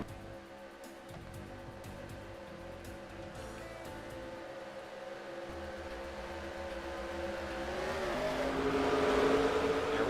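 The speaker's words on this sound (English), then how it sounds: "Side by side, they come down the front stretch." Stock cars race side by side down the front stretch at Phoenix Raceway in a NASCAR video game, engines droning steadily and building louder toward the end as the pack nears, with no talk.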